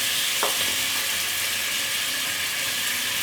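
Flour stirred with a wooden spoon into hot butter in a pot over medium heat, a steady bright sizzle with soft scraping, one sharp knock near the start, close and continuous without voices.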